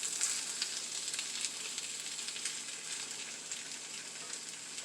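Poor man's hash with eggs frying in a pan, giving a steady, soft hiss of sizzling grease with faint crackles throughout and no talk.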